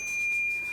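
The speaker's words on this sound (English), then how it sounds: "Is that not a cool bell?" A bicycle bell on an Econic One bike gives a single bright ding with a sustained ringing tone, close and clear, with no talking.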